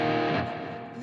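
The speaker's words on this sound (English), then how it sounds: "So he uses the 5th fret harmonics on the low E string" Natural harmonics ring out on an electric guitar, played at the 5th fret of the low E string through a distorted amp. The tone is a bright, sustained chime with overtones that fades over about a second.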